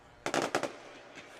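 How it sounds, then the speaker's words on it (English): Fireworks burst across the way at Fort Walton Beach High School near Highway 98 during a high school football game, a quick cluster of four or five sharp distant pops followed by a fainter one after a short gap. "Fireworks going off on display here across the way here at Fort Walton Beach High School"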